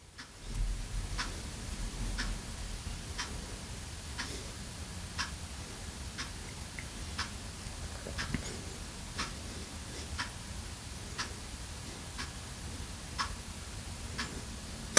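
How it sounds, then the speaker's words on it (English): A clock ticks steadily, each tick sharp and regular at about one per second, faint against a low background rumble with no voices. "just like that clock you hear ticking"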